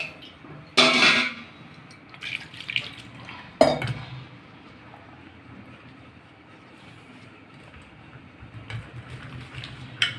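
Five to seven mangoes are rinsed under running water for mango papad, giving a low steady wash of water broken by two sharp splashing bursts near the start and a few softer knocks later, with no talking.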